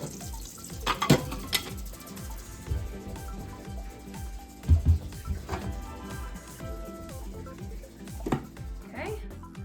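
Dishes being washed in a kitchen sink, with running water and repeated clinks and clatters of plates and utensils at close range, busy and irregular, with no talking.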